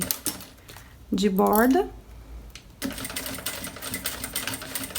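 A sewing machine stitches a plastic toiletry bag on a long stitch setting, a fast, steady mechanical whirr starting near the end after a brief spoken phrase and earlier light handling noise.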